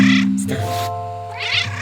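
A game cat in the puzzle game A Little to the Left lets out loud, drawn-out meows, one sliding call flowing into another complaining cry.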